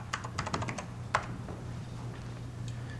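Rapid clattery keystrokes on a computer keyboard entering a command at a DOS prompt to start TBBS, a quick burst of close clicks followed by a few sparser taps over a steady low hum.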